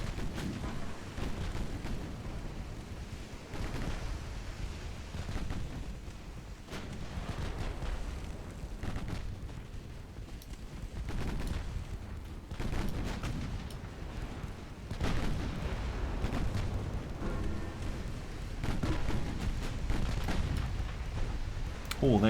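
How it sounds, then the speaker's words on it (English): A 6-inch naval gun in a British classic campaign strategy video game fires as part of an ongoing battle, with a run of low booming shots and rumbling impacts spread across a noisy, sustained soundscape. "6-inch gun from Dartmouth again."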